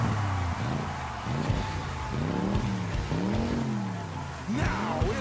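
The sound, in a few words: race car engines starting and revving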